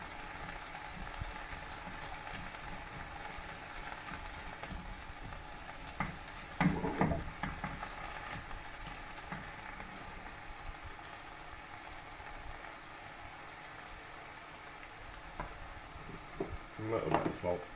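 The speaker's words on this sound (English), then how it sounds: "I've fried this sourdough." Sourdough bread fries in a pan with a soft, continuous sizzle and crackle, fairly quiet, with a few louder stirring or scraping bursts partway through and near the end.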